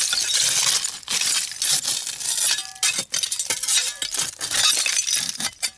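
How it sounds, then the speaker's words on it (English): Broken glass clinks and chinks repeatedly while digging through an old dump, bright scattered rattles of shards knocking together, close and fairly loud with short pauses. "There's a lot of broken glass right there."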